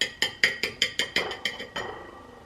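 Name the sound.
glass clinking while being handled during cocktail making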